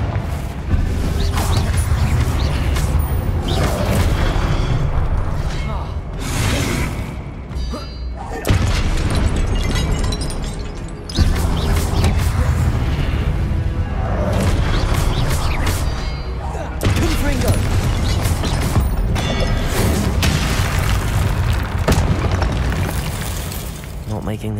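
Booming explosions from the Confringo spell in Hogwarts Legacy, set in a cave maze, with heavy, loud blasts and rumbling that continue through a voice casting spells.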